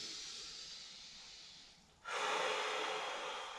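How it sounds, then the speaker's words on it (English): Steady breathing during gentle stretching exercises: a soft, airy breath fades away, then a louder, fuller breath follows close by with no talking. "Don't forget to breathe."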